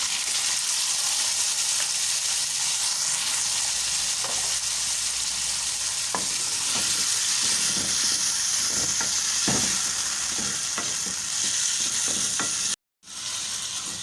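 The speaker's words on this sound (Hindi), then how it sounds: "6 से 7 मिनट आलूओं को हमने फ्राई कर लिया है" Potatoes fry in a pan with cumin for aloo methi, a constant close sizzle broken by repeated scraping stirs, with a brief full silence shortly before the end.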